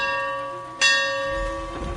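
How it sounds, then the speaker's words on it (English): A single ship's bell struck once aboard a warship in the Firesong DLC video game, a bright clang ringing out over a steady tonal background hum and fading slowly. "Sound the bell, mercenary,"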